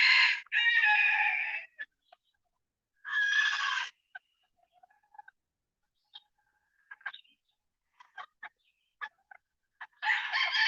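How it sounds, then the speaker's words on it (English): Backyard chickens, some roaming loose, let out loud drawn-out rooster crows at the start, middle and end, with soft scattered clucks in the quiet gaps between. "The chickens will be right up here in the front. But I guess they're a lot louder right now"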